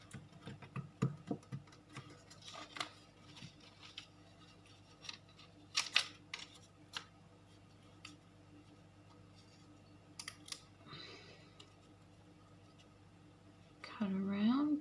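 Scissors cutting paper for a junk journal craft, with quiet intermittent snips and small crisp clicks spread across a mostly hushed stretch, then a brief louder rustle at the end.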